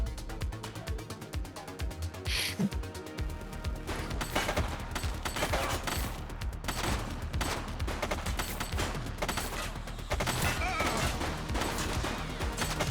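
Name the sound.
gunfire in the video game The Precinct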